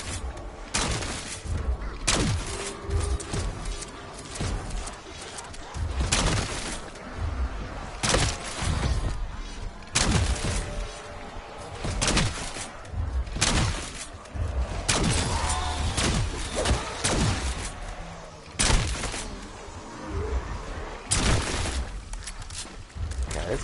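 Bursts of automatic gunfire from a powerful weapon in Black Ops 7 Zombies, loud sharp volleys repeating every second or two over a busy game soundscape, with voices talking in between.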